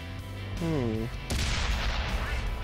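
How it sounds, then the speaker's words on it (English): A tank cannon fires in World of Tanks with a loud booming blast after a brief whirring tone, followed by a rumbling decay under engine noise. "who's shooting at me?"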